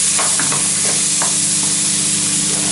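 Eggs fry in a hot pan with a loud, steady, close sizzle and crackle that never lets up, with faint stirring scrapes.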